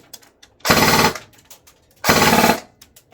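Two short full-auto bursts from a CQB model gun, each a loud, rapid rattle of about half a second, separated by a quiet gap with faint clicks.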